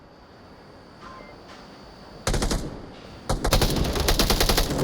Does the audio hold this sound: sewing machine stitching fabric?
no